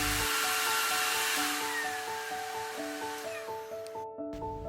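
An Umeda U-Stik cordless vacuum running at its second, louder speed, a steady high airy whine with a constant motor drone that cuts off abruptly near the end.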